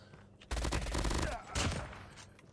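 A burst of rapid video game gunfire, loud and close, fills the first second of the clip, followed by a second short burst of shots.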